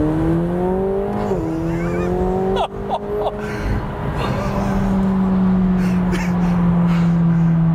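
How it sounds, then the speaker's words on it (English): A McLaren 720S, not brand new and with about 1,000 miles on it, accelerates hard with a loud, close engine whose pitch climbs steadily, drops briefly at a shift near three seconds, then pulls on strongly. "All right, driving the 720S."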